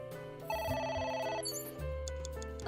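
Telephone in the video game A.I. The Somnium Files gives a single electronic ring burst lasting about a second, layered over sustained background game music.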